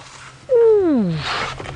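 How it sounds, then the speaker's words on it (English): A wild animal's contact call, a single drawn-out "ooh" that starts high and slides smoothly downward over about three quarters of a second, clear and fairly close, heard on an evening safari drive with no voices over it. "That sound can travel up to 4 kilometers in the right condition, that contact calling, that ooh"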